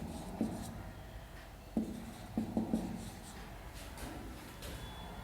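Pen scratching on a surface while a sentence is written, a handful of short strokes and taps spaced irregularly over soft background hiss, close and fairly quiet with no speech.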